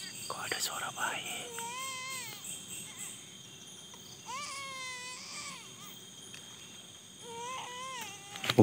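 Faint, high, wavering cries like a baby's come in three separate bursts outdoors along a forked path. Steady insect chirping runs underneath, and a brief whisper or rustle is heard between the cries.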